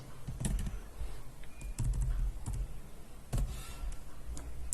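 Typing on a computer keyboard, several short bursts of close key clicks with brief pauses between them and no voices over them.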